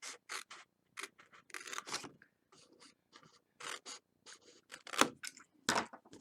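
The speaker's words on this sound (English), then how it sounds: "we're going to cut right along this first score line and cut off these 2 squares" Scissors snip through scored paper card for a greeting card and gift box, a series of short crisp cuts and rustles in an uneven rhythm, close and fairly quiet with silent gaps between strokes.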